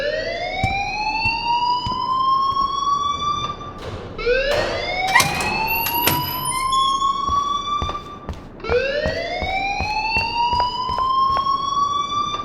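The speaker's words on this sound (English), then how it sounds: "please turn off that alarm" A school alarm in the video game Life is Strange wails in loud rising sweeps that repeat in cycles, with sharp clicks and clatter scattered through the steady blare.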